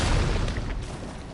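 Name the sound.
boss jumping and landing in the video game Elden Ring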